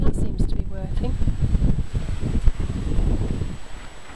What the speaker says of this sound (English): unless somebody's familiar with this sort of wind, they have no idea how much damage it does